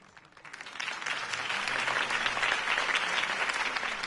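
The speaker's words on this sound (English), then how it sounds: "If only Mr. Wayne, my campaign's largest backer, could have heard that applause" A video game crowd breaks into applause that builds quickly and holds as sustained, dense clapping.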